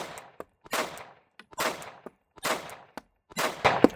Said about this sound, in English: Nice shooting, Kurt.